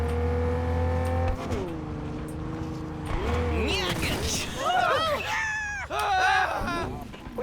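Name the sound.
Cheetah car engine revving in the video game Cyberpunk 2077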